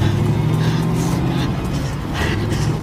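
A car engine drones steadily and loud throughout during a chase, with a low rumbling hum and a few brighter swells of passing or revving, no talk.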